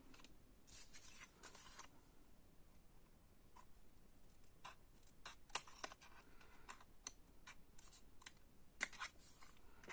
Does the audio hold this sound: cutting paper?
yes